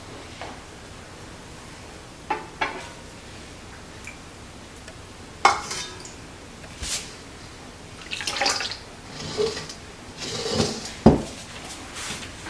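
Kitchen clatter of dishes, utensils and pots knocking together while a strainer is set up with a cloth to strain peaches, a string of sharp close clinks and thumps, some with splashy water-like tones, with no talk.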